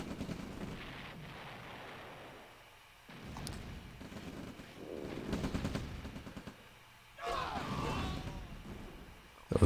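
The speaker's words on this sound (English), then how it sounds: "Those mines taking out several troops in a tank." Mines blow up troops and a tank in a real-time strategy game, bursts of crackling gunfire and explosions arriving in separate clusters, with speech mixed in.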